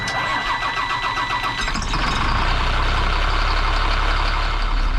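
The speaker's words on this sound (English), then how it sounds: "we're gonna fire this bad boy up and we're going to go camping" Diesel engine of a converted school bus cranking and catching at about two seconds, then settling into a loud, steady rumbling idle close by.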